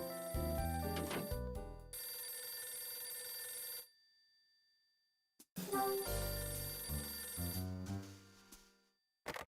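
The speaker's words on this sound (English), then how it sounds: "It's a phone. Is it coming from my room?" A telephone rings in the video game Last Window: The Secret of Cape West, with bright electronic ring bursts, a pause, then another ring and a short final chirp, heard clearly with no voices.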